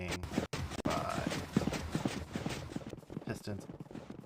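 Minecraft pistons firing out of sync make a busy, uneven clatter of rapid clicks, like hooves, running under steady talking.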